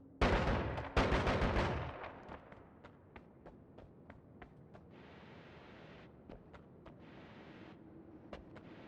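Shotgun blasts in the video game Noita: two heavy, booming bursts open, followed by a string of sharper, quieter cracks and clicks spaced irregularly over a low rumble.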